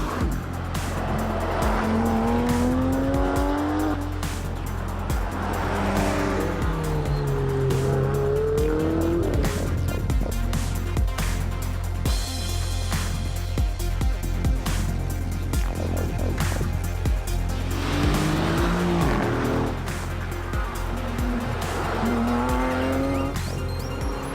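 Rally cars at the Tour de Corse 2018 roar through tight corners on a special stage, engines rising and falling in repeated waves with shifts and tire squeal, loud and close throughout.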